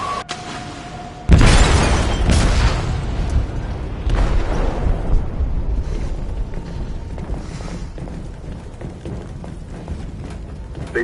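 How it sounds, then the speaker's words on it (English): Explosive detonating in a ship's hold in the Detroit Become Human video game: a sudden loud booming blast followed by a long rumbling, creaking, debris-filled decay. "They detonated an explosive in the hold."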